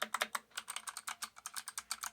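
Rapid, crisp typing on a clicky mechanical keyboard fitted with knockoff Kailh box blue or navy switches, each keystroke a sharp distinct click in a quick uneven stream, close and alone.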